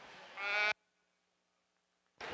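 Sheep bleating in the show ring at a junior market lamb show at a state fair: one loud, close, wavering bleat, a pause of quiet, then another bleat starting.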